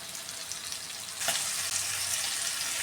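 Fish sizzles and fries in a pan over a medium flame, a steady broad hiss that swells louder about a third of the way through and holds strong to the end, with no voices.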